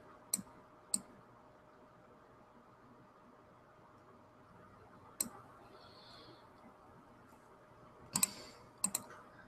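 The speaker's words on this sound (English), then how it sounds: "Click and drag." Sharp, isolated mouse clicks while dragging and rotating elements in Canva, two quick clicks near the start, one in the middle, then a tight cluster near the end, close and crisp over faint steady room hiss.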